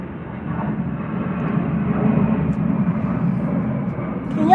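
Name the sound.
low-flying airplane passing overhead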